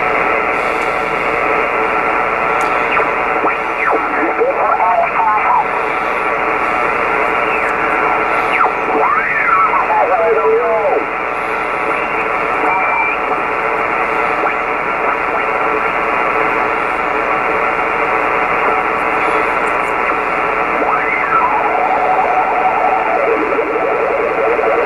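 Kenwood TS-520 ham radio tuned to the 20 meter band on upper sideband, hooked to an outside antenna, giving a steady loud hiss of static with warbling, chirping signal tones drifting in and out, no voices.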